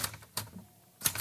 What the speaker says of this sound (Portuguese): Máquina de escrever.